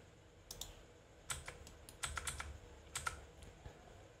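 Keys on a computer keyboard are tapped in short clusters of quiet clicks with pauses between, close and soft, while someone types a shortcut in Revit MEP during duct modeling.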